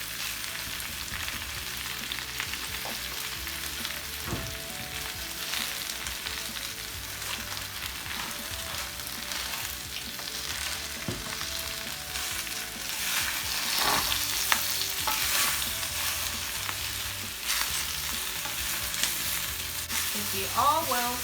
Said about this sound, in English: Into the pan. It's going to wilt down really quickly.